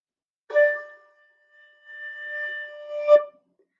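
A flute plays the note D, a soft, steady tone held for a couple of seconds, close and alone, framed by brief breathy attacks and key clicks at its start and end.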